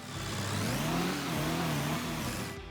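A tractor towing a mower drives toward a field in Farming Simulator 25, a steady mid-pitched engine drone with slight rises in revs, close and continuous.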